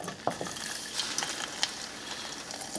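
Beer hits a hot pan of sausage hash, giving a soft, steady sizzle and crackle broken by a few sharp clinks of a stirring utensil against the pan.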